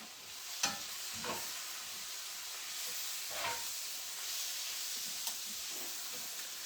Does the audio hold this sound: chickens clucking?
no